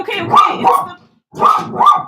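Stella the dog barks in two loud, close pairs of sharp barks separated by a brief silence.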